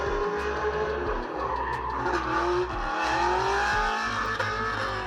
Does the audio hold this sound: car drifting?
yes